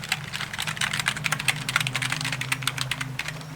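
Steady, close typing on a computer keyboard in a quiet wellness check-up room, with quick soft clicks in an uneven rhythm and a low hum beneath.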